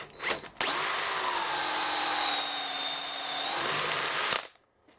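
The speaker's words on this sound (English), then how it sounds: "but we're only drilling soft aluminium." Sharp drill bit cuts steadily through soft aluminium, one continuous whining run of about four seconds, loud and close, starting and stopping abruptly.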